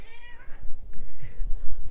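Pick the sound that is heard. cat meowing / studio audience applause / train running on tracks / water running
cat meowing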